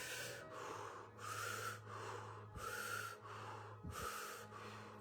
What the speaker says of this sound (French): on va commencer par une respiration puissante par la bouche, uninterrompue, pendant quelques minutes.